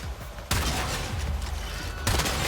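A cannon shot fired at a camera in the video game Warframe, a sudden loud blast that cuts in and rumbles on, followed by a second burst near the end.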